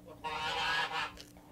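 A mother goose on a farm, protective of her eggs, gives a loud, close honk lasting about a second, followed by a shorter second call.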